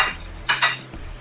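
Metal spoon clinking against a soup bowl of homemade salted vegetable pork bone soup, two bright close taps in quick succession over a faint background hum.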